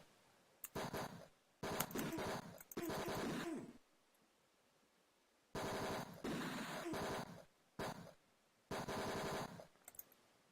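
Rapid bursts of enemy gunfire in the video game Tex Murphy: Mean Streets, several loud rattling volleys separated by short silences.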